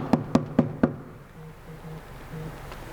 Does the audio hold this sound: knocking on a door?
yes